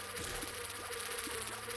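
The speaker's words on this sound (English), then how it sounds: "I'm sorry for the buzzing sound. I'll kill these flies eventually." Steady insect-like buzzing of flies in The Binding of Isaac Repentance, a continuous droning hum at even loudness that runs through the whole moment alone, with no voices.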